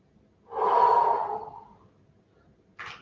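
A single deep, drawn-out breath taken during a Pilates ball-and-straw exercise, loud and close for about a second before fading, followed by a short, softer exhale.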